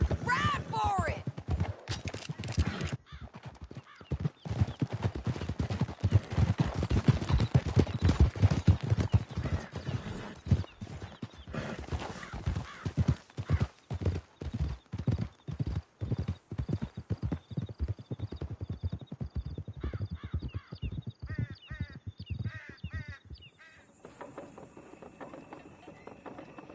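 Horses galloping in Red Dead Redemption 2 during a chase out of a canyon, a loud rapid drumming of hooves that runs almost without a break, then slows into clip-clop, with neighs and voices calling out over it.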